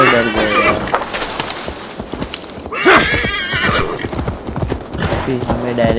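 Hooves clip-clop beneath steady talking during Assassin's Creed Valhalla gameplay, and a horse lets out a brief loud whinny near the middle amid ambient game noise.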